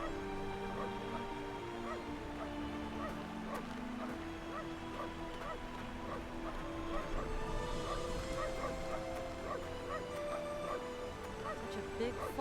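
A dog barks and yips repeatedly in a snowy forest in the video game Syberia 2, with intermittent barks over music and ambient game sound.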